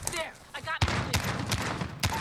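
FAMAS G2 burst rifle in Call of Duty Modern Warfare, a few sharp gunfire bursts close up over a noisy game background, with a short stretch of voice before the first shot.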